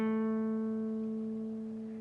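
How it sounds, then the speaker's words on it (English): On guitar, a note is hammered onto the 7th fret of the D string and then held with gentle vibrato, sustaining alone and slowly fading. "you will hammer on to the 7th fret of the D string, and after you've hammered on, you will then play a vibrato there"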